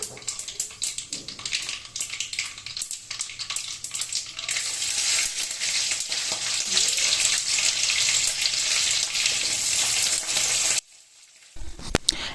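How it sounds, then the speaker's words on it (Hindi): Curry leaves and dried chillies sizzle in hot oil while making dosa, a loud, steady crackling hiss that builds and holds for about ten seconds before cutting off abruptly, followed by a few faint clicks. "करी पत्ता का और दूसरा सूखा हुआ जो मिर्च था उसको गरम तेल में जब डालते हैं और उसका जो साउंड आ रहा था"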